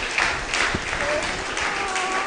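Church congregation applauding and cheering in praise during a Sunday service, a steady wash of clapping that holds evenly throughout the short stretch, with scattered voices mixed in.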